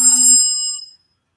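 A mobile phone briefly rings indoors, a short bright electronic ringtone burst that fades out within about a second, close and fairly loud, with no speech.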